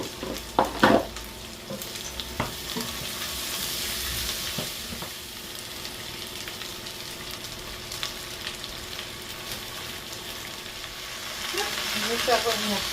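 Potatoes added to garlic and onion sizzle steadily in a hot pan, a soft continuous frying hiss with occasional utensil scrapes and stirring knocks close by.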